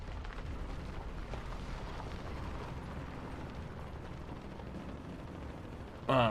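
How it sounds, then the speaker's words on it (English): Explosions rumble through a war video game as a bomb goes off, a dense, loud, continuous booming roar with a sharper burst at the very end. "Oh my god, the bomb."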